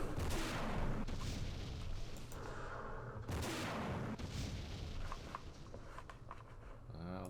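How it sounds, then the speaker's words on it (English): Recoilless rifle fire in the Vietnam war game Campaign Series Vietnam at Ap Bac: two heavy booming blasts with long rumbling tails, one at the start and one mid-clip, over constant battle noise and scattered lighter shots. "Use our recoilless rifle."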